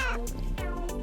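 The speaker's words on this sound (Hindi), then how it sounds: "बेचारी बिल्ली" A cat gives a short meow or two, close and clear, over a faint background.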